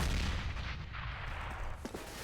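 Rifle gunfire in Counter-Strike: Global Offensive during a competitive match, with a loud opening blast fading into a rumbling tail, followed by a couple of faint clicks.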